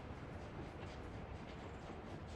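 A train running in the Workers & Resources simulation game, a steady broadband rumble with faint rhythmic rail clatter, quiet and continuous, with no voices.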